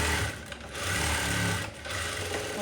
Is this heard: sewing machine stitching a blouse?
yes